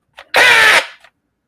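A Milwaukee M12 SDS rotary hammer, opened up with its gears exposed, gives a brief loud motor whir of about half a second, with faint short clicks just before and after.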